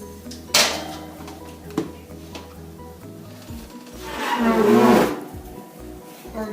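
A tres leches cake goes into an oven set to 350 degrees, with a couple of sharp clunks early on, then a louder rushing, rubbing swell as the pan slides in and the door moves, over low background hum.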